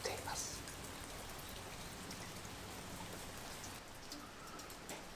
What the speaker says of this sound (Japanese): 今日はしぐれの雨が降っています